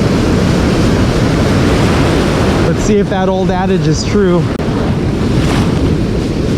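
Ocean surf rolls and breaks along a fishing shore under strong wind rumble, with someone talking over the wash partway through.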